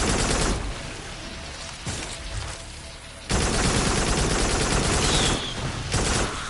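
Enemy gunfire in the VR shooter Farpoint on PS VR, dense rapid bursts of shots crackling loudly in long stretches with brief gaps, harsh and close.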